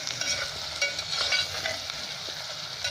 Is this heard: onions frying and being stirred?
yes